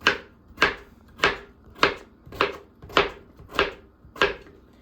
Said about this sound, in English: So we're just going to get all these chopped up.